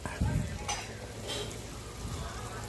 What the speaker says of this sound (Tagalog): Tingnan natin yung ating ginigisa